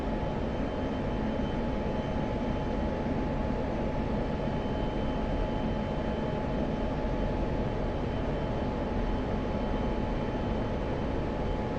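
An F-16 jet engine in the DCS flight simulator gives off a steady, even roar with a faint whine, unbroken and constant throughout, with no talk.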